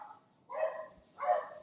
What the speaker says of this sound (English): Is that your dogs or mine?